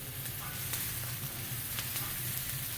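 Garlic frying in a skillet while a spatula stirs it, a steady close sizzle with light scraping ticks, continuous throughout and alone.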